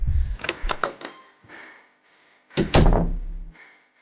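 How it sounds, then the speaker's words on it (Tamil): A room door is opened: a cluster of sharp wooden knocks and clatters, then a quieter creak, followed by a louder, heavier thunk and a short scraping slide as the door moves, close and distinct. "ராஜா ரூம் கதவை திறக்கிறான்."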